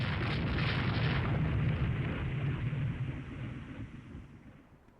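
A shell strikes a warship in the naval strategy game Rule the Waves 3, a dull explosive boom with a rumbling low body that slowly fades over several seconds, fairly quiet and heard alone.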